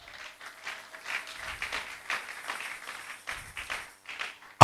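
A church congregation applauding in acclamation of God's glory, uneven bursts of clapping rising and falling over a few seconds, moderately close and without speech.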